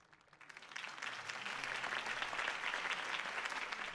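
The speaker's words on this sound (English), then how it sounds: "could have heard that applause" Crowd applause in the video game Telltale Batman swells in after a brief quiet start, then holds steady as a dense, continuous clapping from a large audience.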